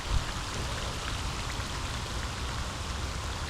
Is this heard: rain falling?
yes